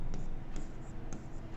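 Chalk or marker writing on a board during a maths lesson, three short faint scratchy strokes spaced about half a second apart against quiet room tone, with no talking.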